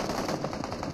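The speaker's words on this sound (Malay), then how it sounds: "Pada mereka ada tembakan berterusan lagi daripada Hazel." Continuous automatic gunfire in the mobile battle royale game PUBG Mobile, a dense rapid burst of shots rattling without pause through the whole moment.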